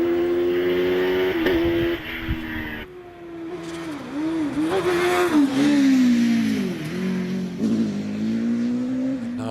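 An OMS 3000M hillclimb race car at Harewood drives the course, its engine revving hard and rising and falling through gear changes, loud and fairly close, with a faint squeal of tyres.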